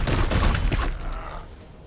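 A heavy weapon blast in the Warhammer 40,000: Chaos Gate video game, one loud booming burst of fire that rumbles and fades over about a second, with no talking.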